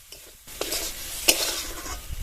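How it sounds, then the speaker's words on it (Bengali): Tomato chutney frying and being stirred in a pan, a soft steady sizzle with scraping strokes of a spoon, close and fairly quiet, no voices. "এবার ভেজে নেবো।"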